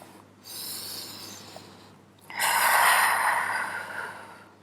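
Two deep breaths taken slowly during a floor Pilates exercise with the knees drawn to the chest, each a long airy exhale close to the microphone, the second louder and fuller, with no speech over them.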